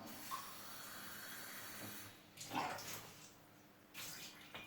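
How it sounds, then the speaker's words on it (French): Water poured from a glass into a bowl of batter being thinned to crêpe consistency, a soft steady hiss with a couple of brief louder splashy pours near the end, quiet and close, no talking. "on va diluer ça avec de l'eau pour que ça fasse comme une pâte à crêpes"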